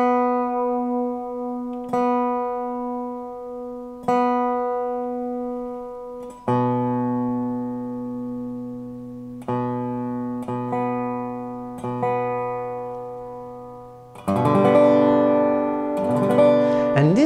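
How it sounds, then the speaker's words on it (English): Dobro resonator guitar being tuned, its B string brought down slightly: single plucked notes ring and decay one after another, then fuller strummed chords ring out near the end, alone and close. "tune down your B string just a little bit"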